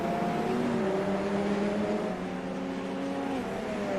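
Radical race cars howl around the Rudskogen circuit into turn one during a Radical World Series race, their engines droning steadily with rising and falling pitch from several cars blending together.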